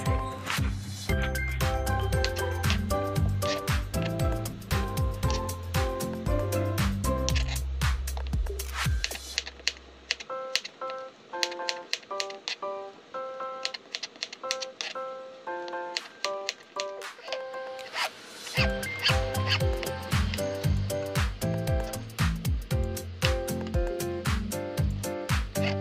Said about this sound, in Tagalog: Pagkatapos balatan ng sayote, hihiwain natin to into thin strips.